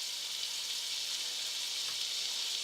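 Butter sizzling in a hot pan before pancakes go in, a steady bright hiss and crackle that holds even throughout with no voices.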